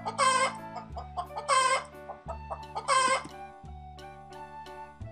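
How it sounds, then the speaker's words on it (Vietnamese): A hen clucks and cackles loudly and close up, in three repeated bursts of sharp calls over a steady low mechanical hum, ending with a few softer clucks. "Chúng mình vừa nghe tiếng gà kêu rồi."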